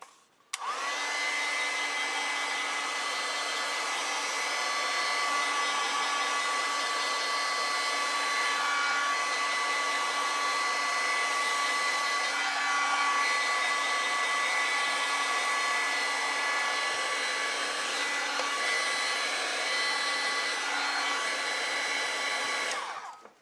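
Hair dryer blowing steadily and close for over twenty seconds while drying a damp watercolor print, a constant loud whoosh with a fixed motor whine and no pauses.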